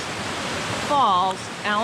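A small cascade at Allen Falls on a brook pours with a steady rushing hiss while someone speaks over it.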